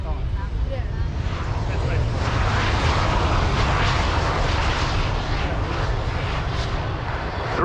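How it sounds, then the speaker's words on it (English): A display jet lands at Farnborough Airshow with thrust reversers deployed, a loud, steady broadband engine roar filling the whole stretch without letup, close and continuous, with crowd noise faintly underneath. "Thrust reversers deployed,"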